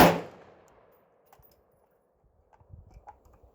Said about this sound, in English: I'm just being fairly lazy shooting here. I'm not really trying to hit anything particular, just shooting straight into the backstop.